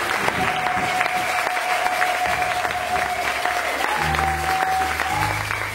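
A church congregation at a sermon in Kinshasa applauding and acclaiming the Lord, with loud, steady, dense clapping and crowd noise throughout, over a sustained musical tone.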